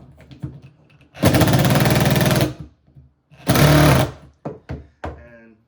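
A power driver runs screws into carbon pucks for a DIY stick handling bridge in two loud buzzing bursts of roughly a second each, close up, with brief clicks and handling noises between them.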